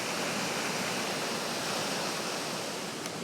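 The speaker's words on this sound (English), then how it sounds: "we're on the viewing platform, and we're actually above the falls here" A waterfall roars below a viewing platform above the falls, giving a dense, steady broadband rush with no break and no voices.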